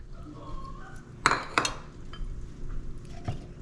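Garlic stirred into butter in a bowl, heard as a few sharp clinks of a utensil against the dish with quieter scraping in between, close and otherwise quiet.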